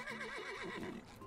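Horse in the video game SpongeBob: The Cosmic Shake giving a single wavering whinny, loud and close, with a trembling pitch that falls away over about a second.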